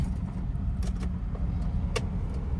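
Tata Nano, a new car, creeping slowly along a narrow road with a steady low engine and road rumble, plus a couple of faint short rattles and clicks from inside the cabin.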